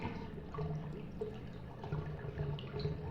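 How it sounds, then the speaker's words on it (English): A toilet flushes in a continuous, fairly quiet rush of water with small gurgling swells, heard alone without voices. "Hold on, I gotta flush."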